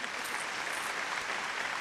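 An audience claps at a memorial poetry gathering honouring Harivansh Rai Bachchan. The applause is a steady, even patter from many hands, heard alone and fairly soft at a distance.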